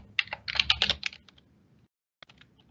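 Computer keyboard typing a Microsoft account login, a quick close burst of clustered keystrokes, then a pause and a few lighter taps.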